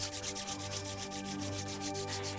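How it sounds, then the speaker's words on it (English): Two palms rub briskly together in a steady back-and-forth rhythm, close and soft, with no talking. "Rub your hands again."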